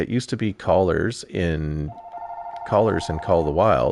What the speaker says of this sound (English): Sorry for the phone going off.